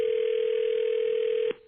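A steady telephone dial tone hums loud and close for about a second and a half before cutting off abruptly as a call to a wife is placed.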